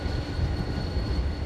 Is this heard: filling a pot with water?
no